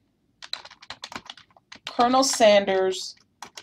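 Fingers type a book title into a library catalog search on a computer keyboard, producing a quick run of light clicks, and then a person speaks over the end of the typing.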